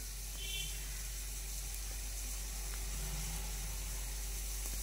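Onions and curry leaves sizzle in a pan as a steady, soft frying hiss that runs alone and unbroken at low volume.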